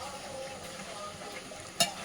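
Food sizzles steadily in a pan on a village home stove while it is stirred, and a sharp metallic clink of the utensil sounds near the end.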